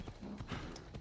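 Horse hooves clip-clop in a rapid, steady rhythm as a horse is ridden through a crowded town in Assassin's Creed Odyssey, the beats close and continuous over busy game ambience.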